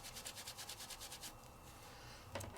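Paper being trimmed at the edge of a stamped image, a quiet rhythmic rasping of cuts close by, ending in a small sharp snip.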